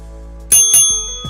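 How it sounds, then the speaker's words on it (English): Two bright dings of a bicycle bell rung during a livestream, close and loud with a ringing metallic decay, over a low steady background hum and no talking. "I'll ring the bell just for you, my guy."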